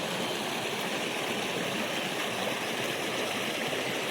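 River water rushing beneath a broken bridge, a loud, steady broadband roar of flowing current that fills the scene without pause, with no voices over it.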